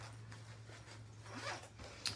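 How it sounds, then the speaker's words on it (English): A short, close raspy zip as the zipper on a Stampin' Up! zipper pouch is pulled closed, heard alone in a quiet room. "And then you close it. And then you zip it up."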